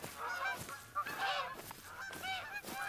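Geese honk repeatedly in theHunter: Call of the Wild hunting game, a flock calling in overlapping, nasal bursts at moderate distance with no talk over them.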